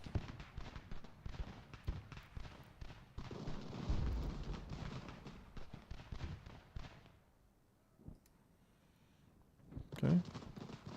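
Massed musket volleys crackle and rumble through a battle in Ultimate General: American Revolution, with dense repeated firing for several seconds, a quieter lull, then another loud burst near the end.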